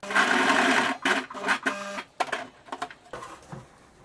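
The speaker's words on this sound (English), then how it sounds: "when you're sewing the elastic together, you need to overlap the edges and use a zigzag stitch" A sewing machine runs a zigzag stitch over overlapped elastic edges for a skirt: a close, fast mechanical whirring burst that breaks into shorter start-stop runs.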